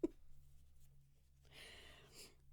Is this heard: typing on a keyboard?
yes